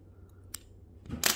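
Wire nippers or scissors snipping through craft wire close up, a light click early on followed by a louder, sharper cut near the end over quiet room tone.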